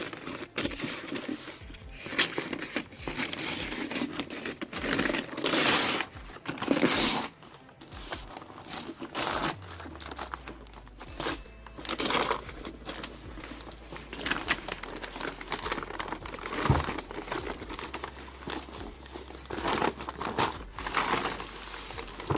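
Plastic packaging around a boxed laptop desk crinkles and tears as it is cut open, a long stretch of close, irregular rustling and crunching with no voices.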